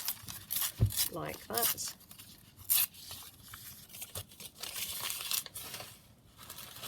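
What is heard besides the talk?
tearing a paper image from a vintage encyclopedia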